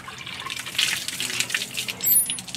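Water is scooped and splashes from a hand-pump well, with irregular sloshing and pouring at close range and no talk over it.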